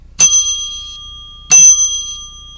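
Two loud, bright bell rings sound about a second and a half apart, each with a quick strike and a shimmering decay, alone and close, on a trivia and giveaway show.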